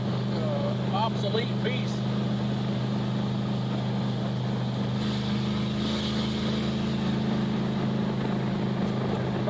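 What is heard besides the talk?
1963 Plymouth Belvedere wagon engine with Thrush mufflers driving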